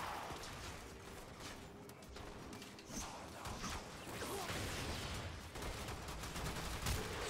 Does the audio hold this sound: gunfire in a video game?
yes